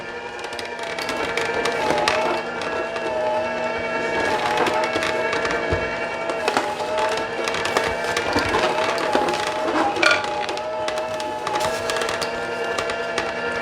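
Juicer machine running as apples are fed in, a loud continuous motor whine with grinding, crunching bursts throughout, close up.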